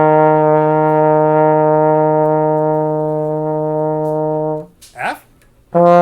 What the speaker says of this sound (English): So E flat sounds like this.